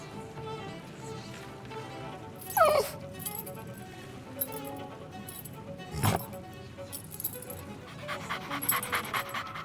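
A dog in the Sea of Thieves video game pants rhythmically, with a few whimpers and yips over soft tonal game music and scattered effects.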